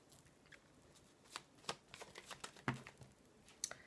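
Tarot cards being shuffled and drawn by hand, with a run of quick papery riffles and flicks, scattered crisp card snaps and a sharp slap near the middle, fairly quiet and close with no talking.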